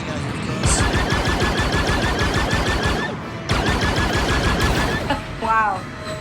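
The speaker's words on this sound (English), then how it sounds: "Depends what's shooting at you, of course." Rapid blaster fire in open-space combat in Star Wars Outlaws, a dense loud volley of repeated shots running for several seconds, breaking off briefly, then resuming with a rising whine near the end.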